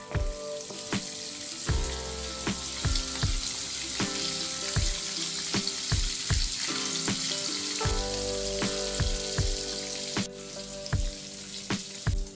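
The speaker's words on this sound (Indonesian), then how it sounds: "lalu kita goreng tahunya ini sampai matang" Tofu sizzles and crackles steadily in hot oil, with occasional clatters and taps of a utensil against the pan throughout.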